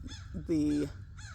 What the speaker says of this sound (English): that's a crow or a raven